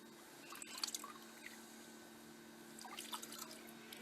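Water tipped out of a gold pan trickles and drips softly back into a larger body of water, a faint light splash early on and again later against a quiet steady background.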